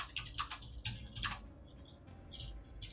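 A Razer computer keyboard patters with fast, light clicks under a steady background hum, loud in the first second and a half, then sparse faint taps and chirpy clicks.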